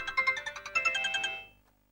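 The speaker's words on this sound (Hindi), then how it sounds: "नवीन का फोन है।" A mobile phone ringtone plays close and clear, a bright electronic melody of repeated chiming notes for about a second and a half before cutting off, with no voices.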